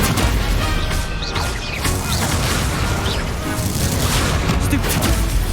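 Stupefy spells fire in Hogwarts Legacy amid a dense, continuous din of magical combat: repeated bursts, crashes and booming impacts, loud and layered throughout.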